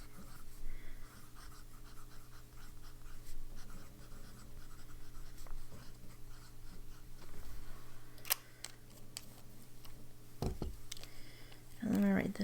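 A medium-nib fountain pen scratches faintly across paper, with soft intermittent strokes over a steady low hum and a few brief sharper clicks and rustles.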